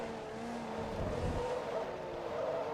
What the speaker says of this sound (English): It's got quite a decent engine note in this game.